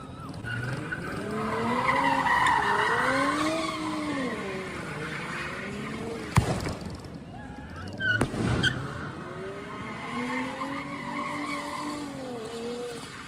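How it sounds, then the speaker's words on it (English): A car spins donuts in the middle of an intersection, tires squealing in long, wavering skids that rise and fall, broken by a couple of sharp knocks and distant crowd noise. "So donuts in the middle of the intersection"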